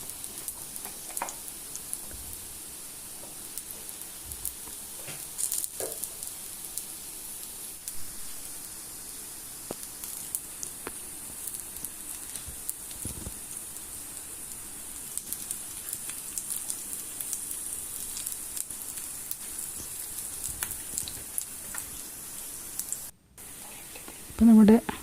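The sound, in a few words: capsicum vada frying in coconut oil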